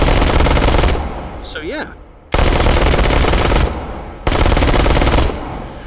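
Automatic fire from a work-in-progress machine pistol in the VR shooter H3VR, three loud sustained bursts of about a second each with short gaps between them, plus a brief spoken remark in one of the pauses.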